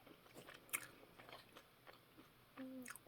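Sticky marshmallow-flavoured candy being chewed close up, with a few soft, wet chewing and biting sounds spread unevenly through a quiet stretch and no talking.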